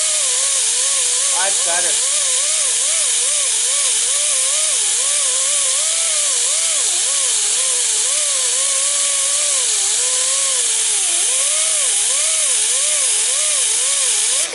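A grinding disc works plasticky epoxy paint off a boat in a loud, steady, unbroken hiss that runs throughout, while someone talks over it.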